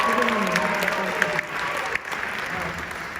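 Audience applause for the percussionists at a Fox High School Concert Band winter concert, a steady wash of many clapping hands filling the hall for a few seconds.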